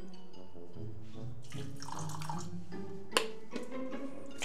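Water is poured into a thick homemade chili sauce, a steady gurgling, splashing flow with a few drips and a clink near the end, over a low background hum.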